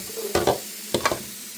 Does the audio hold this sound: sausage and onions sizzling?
yes